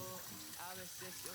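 Running water filling a wide saucepan at a laundry tap, a continuous rushing splash with changing tone as the pan fills, alongside low talk.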